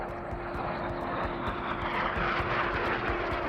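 Red Arrows jet aircraft pulling up, a steady loud engine roar that fills the whole span with broadband rumble and a constant tonal whine.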